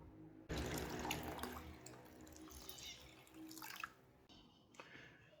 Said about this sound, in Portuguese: Então eu vou abastecer este pote com água.